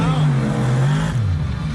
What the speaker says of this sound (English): you can hear Jim Kohler's exhaust from inside the stadium